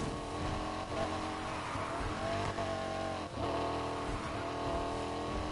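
A performance sedan in Need For Speed Heat, a big heavy car, roars steadily with loud, continuous engine drone and rising revs, with hints of tire squeal, close and alone without talk.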